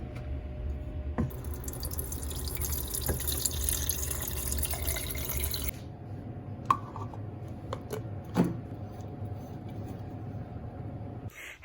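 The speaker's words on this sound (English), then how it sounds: "I'm going to go ahead and get that water" Water runs from a tap in a steady hiss for about six seconds, then cuts off, leaving a few faint drips and clinks in a quiet room.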